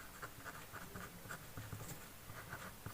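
Marker or chalk scratching on a board while working a maths set problem, a steady series of short strokes and taps in a quiet room with no talking.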